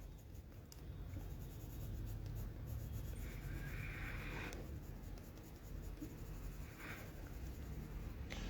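Colour pencil shading on paper, a steady dry scratching rub that runs continuously with small strokes and brief pauses, close and fairly quiet.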